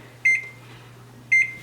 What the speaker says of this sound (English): then we're gonna set the timer